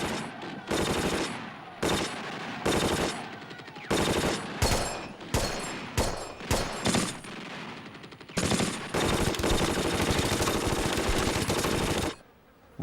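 Machine guns firing in a World War II battle, loud sustained bursts broken by short gaps, then a long unbroken stretch of rapid fire that cuts off suddenly, with no talking.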